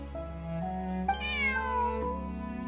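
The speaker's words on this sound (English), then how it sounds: "Bonnie is Pierre's cat." Pierre's cat Bonnie in Genshin Impact gives a drawn-out, wavering meow, clear and close, its pitch rising and then sliding down, heard alone over a soft steady background hum.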